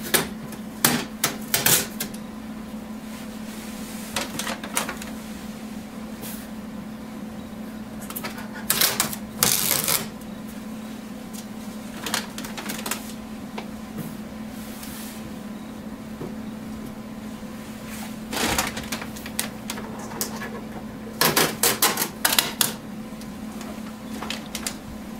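Packing tape being peeled off an HP Officejet Pro X551dw printer, with several separate bursts of sharp tearing and ripping scattered over a steady low hum.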